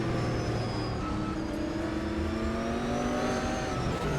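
Corvette race cars in a racing video game at the Brno circuit, engines droning loud and steady with shifting pitch as the cars battle closely, no pause across the stretch.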